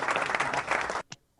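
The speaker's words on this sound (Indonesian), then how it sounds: "tepuk tangan sekali lagi dong buat Kadek." Audience applause at an Herbalife event, a dense burst of clapping from a crowd that lasts about a second and then cuts off sharply, followed by a brief faint clap or tap.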